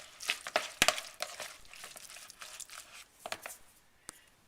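Meatloaf mixture with powdered garlic being mixed by hand, a run of sharp wet squelches and crackles, close and fairly quiet, with no talking.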